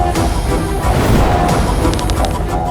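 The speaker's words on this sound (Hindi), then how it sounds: "रावण के बाणों की आंधी" A storm of Ravana's arrows in an epic battle scene bursts as a loud, dense rushing volley with crackling impacts, sustained for a few seconds.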